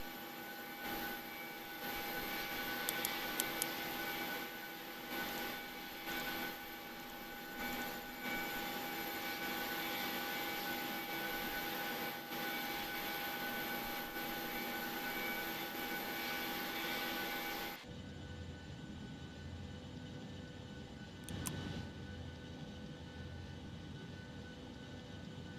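Steady cockpit drone of a Boeing 737-800 in a flight simulator, a continuous broad engine and airflow rush that holds level, then drops to a quieter, duller hum near the end with no talk.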